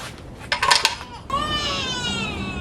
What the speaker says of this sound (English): now I can pop off this upper oil pan